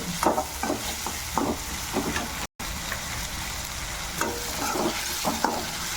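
Tomatoes going into onions already frying in a pan for Kathiyawadi bhindi sabzi, with steady sizzling and repeated scraping stirs, close and moderately loud, with a brief dropout midway.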